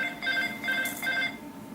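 A mobile phone ringtone sounds during a lecture in a room, a repeated electronic chirping melody of about three bursts, moderately loud.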